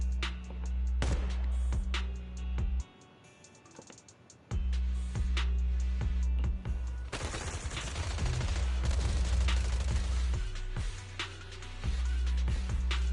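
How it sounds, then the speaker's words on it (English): Rapid bursts of video game gunfire crackle through loud, dense action in Zenless Zone Zero, with a brief lull in the middle before the shooting resumes heavily. "Gunfire? This pattern. Suppressive marching fire."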